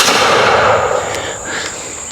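A muzzleloader shooting a .50 caliber ball from a .62 caliber barrel gives one sharp, loud report that fades into a hissing, ringing decay over about two seconds.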